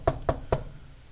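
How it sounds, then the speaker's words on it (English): Three quick, evenly spaced knocks on a hallway door, close and firm, then quiet with no one speaking. "Jimmy knocked."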